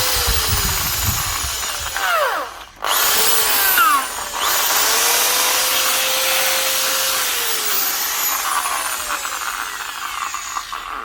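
A Makita HP1621 corded drill runs loud and close, a continuous high whine that dips briefly near three and four seconds before settling back to a steady drone, with no one talking.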